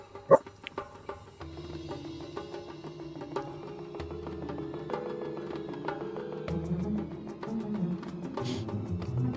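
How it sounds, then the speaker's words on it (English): A dog barks and yips in the background, short scattered barks over a steady low hum, faint and intermittent rather than loud. "I need the dog to shut up"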